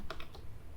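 Three quick keystrokes clack on a computer keyboard while JavaScript code for a Three.js camera is typed, crisp and close, with no voices.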